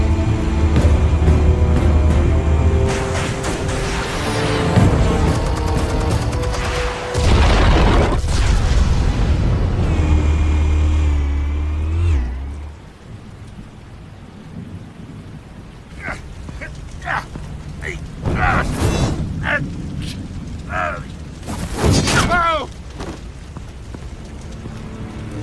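Explosives detonate in Batman: The Telltale Series, with loud, deep booms and rolling rumble for about twelve seconds, then quieter stretches punctuated by sharper impacts.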